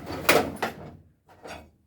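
Tools go back into a tool chest drawer as a few close, solid wooden knocks and clunks with short rattles, with a louder pair early on and a softer one near the end.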